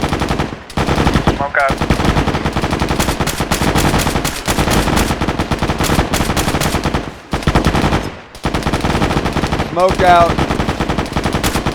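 Machine gun fire during a military-style training exercise, sustained loud close bursts of rapid shots with brief pauses between them, while voices shout over the firing.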